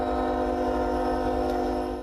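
A freight train near Tyendinaga sounds its horn in one long, loud sustained blast over a low rumbling engine, close by as it approaches demonstrators standing on the tracks.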